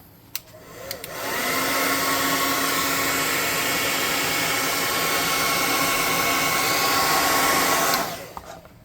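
A hair dryer blows steadily on a freshly painted Black Widow Heroclix miniature, switching on after a second and running loud and even for about seven seconds before cutting off.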